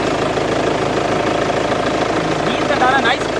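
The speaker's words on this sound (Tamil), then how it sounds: "இன்ஜினோட சவுண்டை மட்டும் எப்படி இருக்குன்னு காமிக்கிறேன் பாருங்கள்" A Chevrolet Cruze top model engine idles with a steady, even low hum close by, and a voice speaks over it.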